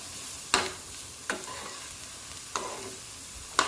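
A spoon stirs beetroot thoran in a pan over high flame, giving four sharp scraping strokes spaced about a second apart over a steady, quiet sizzle.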